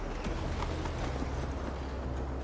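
Horse hooves galloping in the video game Assassin's Creed Valhalla, a fast, steady clip-clop rhythm close up and alone, with no voices over it.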